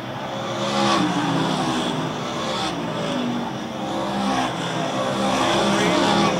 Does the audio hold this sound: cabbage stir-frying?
no